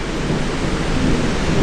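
Heavy rain pours down in Delhi during a thunderstorm. A dense, steady roar of rainfall fills the air without a break, with low rumbling underneath and no voices.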